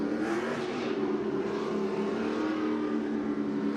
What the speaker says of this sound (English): Christian Nelson warming up his tires. The RTS Nissan 350Z.